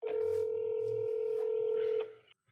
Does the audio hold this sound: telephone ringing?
yes